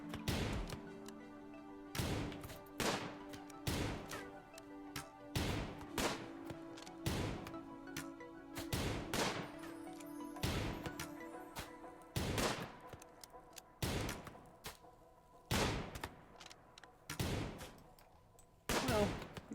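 Gunfire in the video game Rimworld: a series of sharp shots, sometimes in quick bursts and sometimes spaced apart, loud and close, continuing throughout with no talk.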